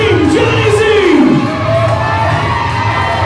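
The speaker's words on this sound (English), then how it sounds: "Listen to this crowd." A wrestling arena crowd at an IZW Impact event cheering loudly and steadily, a dense wash of voices with a rising shout, close and continuous throughout.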